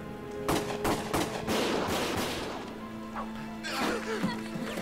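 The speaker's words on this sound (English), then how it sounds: "Gunfire!" Bursts of rapid gunfire and sharp shots from the video game Valkyria Chronicles, with crashes and a steady electronic hum in the background, loud and close.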